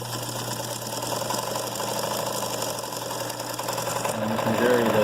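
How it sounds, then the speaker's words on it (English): A late-1970s Japanese-made Kenmore 158.17540 sewing machine runs steadily while sewing a wave stitch, giving a continuous mechanical whir and hum at close range that builds slightly toward the end. "we'll see if we can demonstrate one-handed sewing this little wave stitch"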